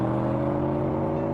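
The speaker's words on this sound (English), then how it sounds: "I get behind the wheel, cranked the engine and peeled out of there" Car engine droning and whirring steadily as it is cranked and pulls away fast, a loud sustained mechanical hum with no voices.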